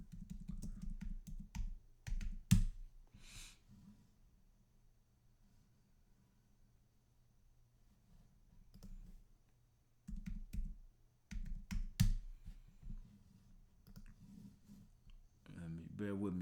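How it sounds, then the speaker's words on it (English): Computer keyboard typing in quick bursts of clicky keystrokes, with pauses of near silence between, close and moderately loud. "I'm going to just type it in"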